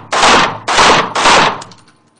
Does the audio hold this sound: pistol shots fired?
yes